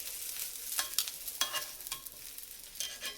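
Food cooking on a comal over leftover heat with the stove off, giving a soft, steady sizzle with a few brief scraping stirs, close and fairly quiet.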